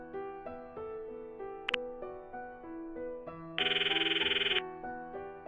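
A phone rings out while a cell phone is dialed in the Steins;Gate visual novel, a steady electronic ringtone melody with one brighter, louder trilling burst near the end, no voices.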